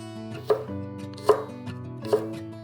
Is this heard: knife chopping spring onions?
yes